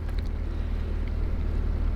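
A narrowboat's diesel engine runs steadily on a canal marina on the Shropshire Union Canal, a low continuous throbbing rumble with light wind buffeting, close and constant throughout.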